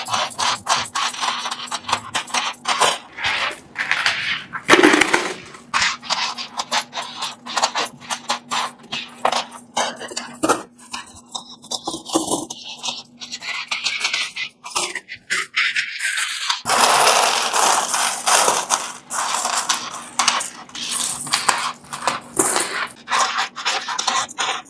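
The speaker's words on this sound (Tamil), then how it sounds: "எல்லாமே இலங்கையினுடைய நாணயங்கள், 10 ரூபாய் நாணய குட்டிகள்." A pile of Sri Lankan 10-rupee coins is poured and handled, giving a long, continuous metallic jingle and scrape of clinking coins, close and loud, with no talking.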